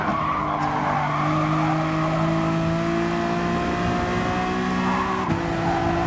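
A Honda NSX GT3 race car in Gran Turismo Sport braking hard while turning in at very high speed, with a steady engine drone and tire squeal under it, and a sharp drop in pitch near the end.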